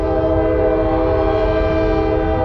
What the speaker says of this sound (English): of course the train's gonna go by,